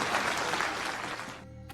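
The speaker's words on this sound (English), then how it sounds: "Everybody clap." An audience claps in a steady, fairly loud burst of applause that cuts off abruptly near the end.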